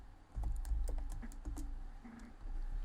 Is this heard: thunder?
no